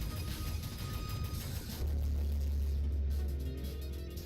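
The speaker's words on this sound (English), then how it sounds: "Also a very nice sound effect on those giant laser beams." Giant laser beams in the video game Galactic Storm give off a deep, steady rumbling hum that swells louder partway through and holds, with no voices over it.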